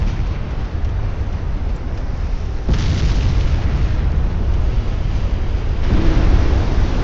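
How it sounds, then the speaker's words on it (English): A flash fire explodes aboard a warship in Ultimate Admiral Dreadnoughts, in the Spanish-American War, as a loud, continuous rumbling roar of booms and bursts. It swells twice and carries on without a break, with no voices. "Oh, there's a flash fire on that one."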